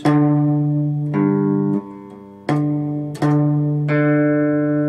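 A guitar with its low E string tuned down an octave, checked against the open D using a harmonic or fretted note: several sustained plucked tones ring alone, each new pluck cutting in sharply over the last.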